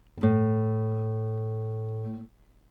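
A single plucked classical guitar note on the open A string rings out clearly and sustains evenly for about two seconds before being cut off; no talking.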